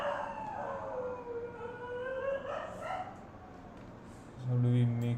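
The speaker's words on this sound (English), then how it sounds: "The street dogs are trying to cameo in my stream" Street dogs bark and howl outdoors, rising wavering calls some distance away, heard under a person talking.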